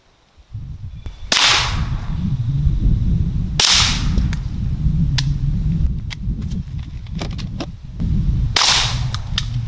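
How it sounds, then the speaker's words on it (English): Suppressed shots from a Taurus TX22 pistol with a Rebel SOS 22 suppressor firing Winchester silver tip rounds, several sharp, close cracks spaced irregularly over a steady low outdoor rumble. "Taurus TX22 with the Rebel SOS 22 suppressor, and I am loaded up with 16 Winchester silver tips"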